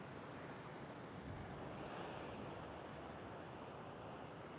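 Steady broadband rush of ocean surf at an oceanfront, a continuous soft wash of waves with some wind buffeting, distant and even throughout with no voices.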